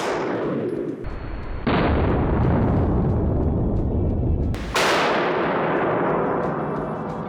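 A 9mm round fired into machine tool safety glass lands as a sharp, loud gunshot, followed moments later by a second heavy blast, each leaving a long roaring decay, with nobody talking.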